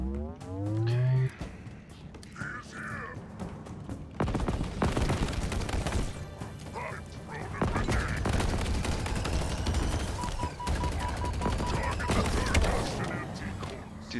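Rapid gunfire rattles through most of this Halo Infinite fight, close and loud, with sustained bursts and scattered single shots under game sound effects.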